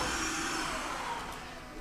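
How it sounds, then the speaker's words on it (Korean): A Tineco OneS3 cordless wet-dry vacuum cleaner runs while sweeping and mopping a floor, giving a steady close whirring drone that eases slightly toward the end, with no talking. "이렇게 쓸면서 닦는 우리 청소기 티네코의 원에스3입니다"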